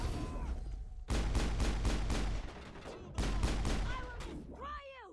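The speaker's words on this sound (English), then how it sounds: "Take out that old sniper rifle and just shoot him in the head" Sniper rifle gunshots in Mass Effect, a series of loud, rapid sharp reports in two long bursts with brief gaps between them, over game ambience, with tonal sweeps near the end.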